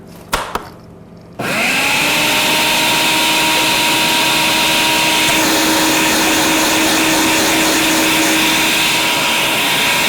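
A food processor runs continuously on a chopped vegetable mixture, its steady motor whine starting abruptly after a few brief knocks and holding loud and even to the end.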